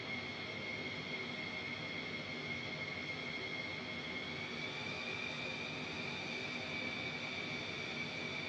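Steady jet engine roar of a fighter jet cruising at under half throttle in Microsoft Flight Simulator 2020, a continuous broadband rush with a sustained whine on top, constant and unbroken with no talk.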